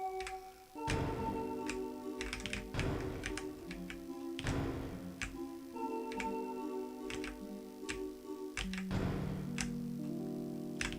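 Computer keyboard typing during a Deltarune game session, a run of sharp, close clicks and taps in irregular clusters, with game music tones ringing underneath.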